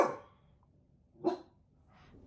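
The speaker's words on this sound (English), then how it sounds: "Just because the neighbor dog barks doesn't mean you have to bark." A household dog barks in a couple of short bursts indoors, one at the start and another about a second later, moderately loud with quiet gaps between.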